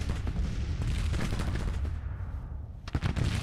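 Battlefield gunfire and artillery in the Civil War strategy video game Grand Tactician, a dense continuous crackle of musketry with rumbling booms, steady and fairly distant, with a sharper burst near the end.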